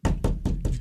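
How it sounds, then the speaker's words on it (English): Four firm knocks on a door in a steady, evenly spaced rhythm, close and loud, with no voices. "I'm going to go knock."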